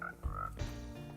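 Frog croaking in the Wynncraft video game near a pond, a couple of short resonant croaks layered over a steady game backdrop with a brief tonal chime, fairly quiet.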